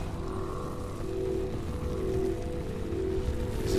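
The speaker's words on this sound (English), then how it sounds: "The storm is almost here." Rain from an approaching storm in a video game, a steady, even hiss of falling water holding at moderate loudness, with a low hum underneath and no voices.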